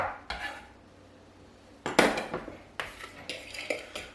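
Grilled chicken with lime and coriander being tossed and mixed in a bowl: several clattering, scraping knocks of utensil against dish, one loud burst midway and a run of quicker clinks toward the end, close by with no talk.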